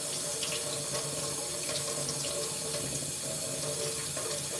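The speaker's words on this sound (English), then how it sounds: "Back to the sink, rinse the brush." A sink tap runs steadily while a paint brush is rinsed after mixing handmade watercolors, a close, continuous broadband rush of water with no voices.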